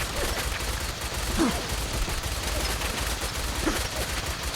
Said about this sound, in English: I'm getting shot up.